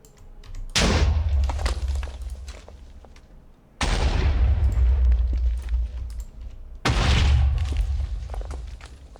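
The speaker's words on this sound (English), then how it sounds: "Lots of explosions." Three loud Minecraft modded Skyblock explosions, each a sharp boom followed by a rumbling decay, spaced a few seconds apart.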